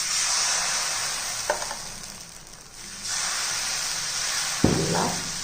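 Dosa batter sizzles on a hot griddle, a steady close hiss with a couple of soft thuds and a louder sputtering burst near the end.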